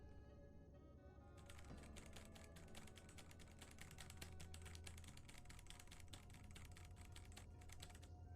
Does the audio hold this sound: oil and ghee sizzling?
no